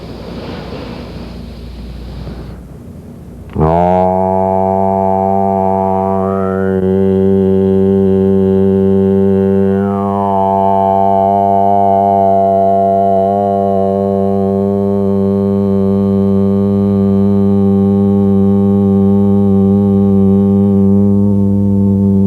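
A steady monotone vocal chanting tone used for meditation, one long sustained note rich in harmonics that starts abruptly and holds loud and unbroken for nearly twenty seconds.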